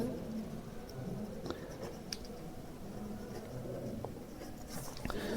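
Pen scratching steadily across a paper voter registration form as it is filled in, a soft continuous writing sound with small ticks, alone at low level.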